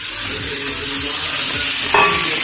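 Boneless chicken pieces sizzle in a hot pan while being stirred for a chicken roll filling. The frying is loud and close, with a short scraping clatter near the end.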